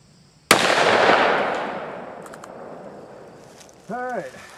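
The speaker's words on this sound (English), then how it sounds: "I'm going to be going with my Smith & Wesson 357 Magnum." A single sharp gunshot from a Smith & Wesson .357 Magnum revolver cracks loudly outdoors and decays over about two seconds; a voice speaks briefly near the end.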